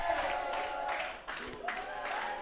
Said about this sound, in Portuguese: A torcida tá gritando o nome de alguém aqui